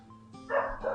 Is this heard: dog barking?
yes